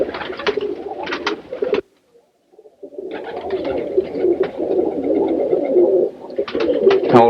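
A roller pigeon coos in a nearby loft, with repeated low throaty coos broken by a brief pause, other birds faintly in the background.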